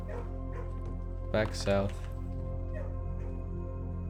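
A dog barks and yips a couple of times in the video game Blue Prince, clear and mid-loud over a steady low game hum, while a voice talks through the clip.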